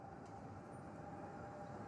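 A Zurich city tram running on its rails, a faint, steady low rumble with a thin tonal whine on top, continuous and fairly distant with no voices.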